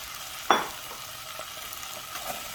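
Peaches drop into a small saucepan of melted salted butter with a sudden sharp hiss, then a soft, steady sizzle continues close by with faint stirring.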